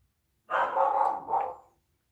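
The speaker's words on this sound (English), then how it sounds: "Hold on, let me tell my dog to shut up." A house dog barks from a basement craft space during a live whittling session, a single loud, close bark-like yelp that rises then dips into a short second burst, heard alone.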